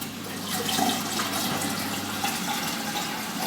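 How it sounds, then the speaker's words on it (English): Steady rush of RODI water pouring into a container, filling it continuously for a few seconds at close range, with no voices. "finish filling it up with RODI water"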